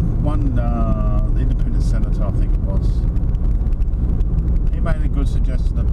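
A car driving around Loch Sport produces a steady low road and engine rumble with some wind buffeting, while someone talks over it throughout.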